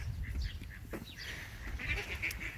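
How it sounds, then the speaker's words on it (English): A duck calls faintly outdoors with a few short honking quacks. Low wind or rumble and other distant bird noises sit beneath it. "There's another duck."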